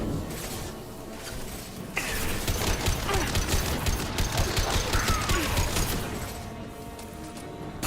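Rapid gunfire in the video game Mass Effect 2, a dense rattling burst of shots with crashing impacts, loud and continuous for several seconds over a steady background hum.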